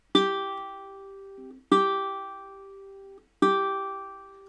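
An open G string is plucked three times on a ukulele, each note ringing clear and near in a quiet room and fading slowly before the next pluck.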